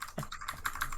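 A clicky mechanical keyboard rattles off a brief run of sharp key presses, close and clear, with no talking over it.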